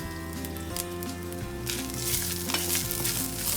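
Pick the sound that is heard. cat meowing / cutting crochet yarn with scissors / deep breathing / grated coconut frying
grated coconut frying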